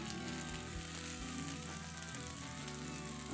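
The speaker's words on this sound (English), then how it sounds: "we're going to take some of these fiddleheads and we're going to go ahead and toss them right in" Fiddleheads cook in a skillet, giving a dense, continuous sizzle and crackle, steady and close at moderate volume with faint background tones.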